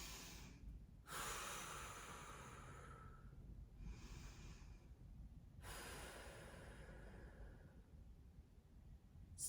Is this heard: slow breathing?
yes